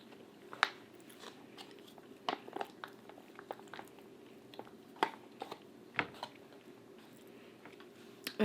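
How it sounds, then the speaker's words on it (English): Someone bites and chews Mountain House biscuits and gravy, a thick, soft backpacking meal, with scattered close mouth clicks and small wet crunches, quiet and irregular with no talking. "So now we're going to go in for a bite of the Mountain House"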